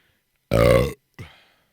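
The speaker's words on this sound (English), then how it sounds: "it's going to have the powerful burps coming out of me" Two loud burps from a man after drinking seltzer, a long resonant belch followed a moment later by a shorter, softer one, close up with no talk.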